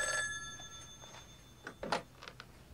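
An old landline telephone bell rings out at close range in a quiet room, a short bright burst followed by a few fainter, uneven ring pulses.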